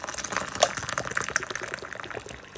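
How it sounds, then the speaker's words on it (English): Hot water poured from a kettle into a container half full of white sugar at home, a close, continuous gush and trickle of liquid with small splashy clinks running throughout. "We're just going to pour hot water"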